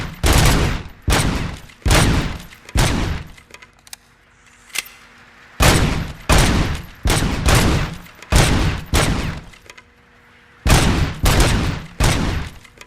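Full-auto weapon fire in RoboCop: Rogue City, loud close bursts of rapid shots in about ten clusters separated by short pauses, with no talk.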